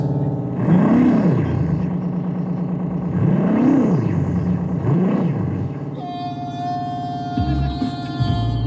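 A funky festival car at the Saint-Paul celebration pulls away carrying visitors, its engine revving up and down in three rising surges before settling, close and loud, with a higher whine near the end.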